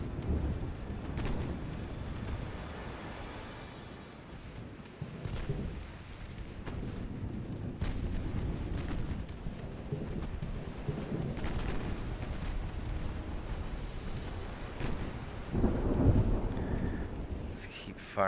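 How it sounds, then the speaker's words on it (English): Naval secondary guns fire repeatedly in the Ultimate Admiral Dreadnoughts battle game, a rumbling barrage of booming shots over a steady low roar, with a sharper, louder blast near the end. "Firing the secondaries at you"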